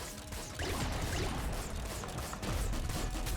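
A weapon in Nuclear Throne fires in a rapid, rattling stream of sharp clacks and crunches, loud and continuous under busy game noise, with no voice.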